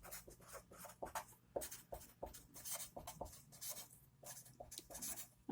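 Pen scratching numbers onto paper up close, a quick series of short strokes and scribbles with brief pauses between them.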